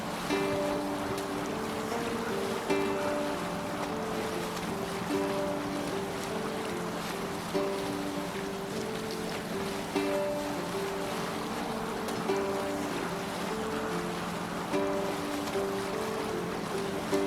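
A sailing ship cuts through ocean waves in Assassin's Creed Valhalla, with a steady wash of water and wind holding throughout and a faint musical tone running beneath it.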